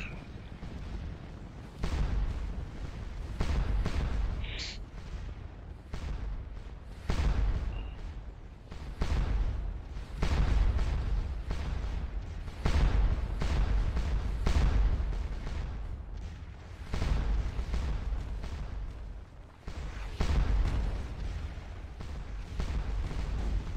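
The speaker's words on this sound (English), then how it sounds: "Now I hear some canister fire going on." Canister and artillery fire crack and boom on a Scourge of War Waterloo battlefield, a dense, irregular barrage of loud blasts, some in quick clusters, rolling on continuously without a break.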